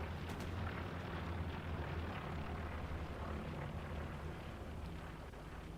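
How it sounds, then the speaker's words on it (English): A satchel charge blows up a Stuart tank in the video game Hell Let Loose, a dull, distant explosive rumble spreading into a sustained low roar of battlefield noise, fairly faint overall. "That Stewart will get blown up from that satchel."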